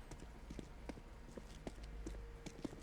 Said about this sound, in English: He heard the footsteps